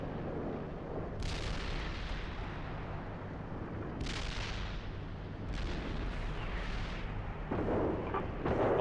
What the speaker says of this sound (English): We will hold on this side of the ridge until the indirect fire has dropped.